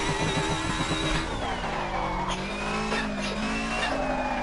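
Locked tires skid and squeal from a touring car in a racing video game, a continuous screech layered over a loud revving engine with a shifting pitch, and no voices.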